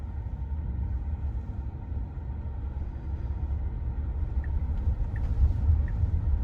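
Tesla robotaxi rolling along at low speed, a steady low road and motor rumble from inside the cabin with a few faint ticks, no talking.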